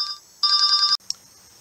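A telephone rings with an incoming call: a short trilling electronic burst, a pause, then a longer warbling ring that cuts off abruptly, followed by a faint click, loud and close with no voices.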